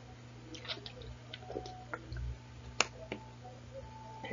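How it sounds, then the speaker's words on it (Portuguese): Someone drinking water, soft close sips, swallows and small clicks and squishes scattered over a few seconds in a quiet room, without talk. "Com licença, vou beber água"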